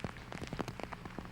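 Rain patters steadily on wet ground at a disc golf course during a long downpour at a tournament, a dense, close spatter of drops with no voices.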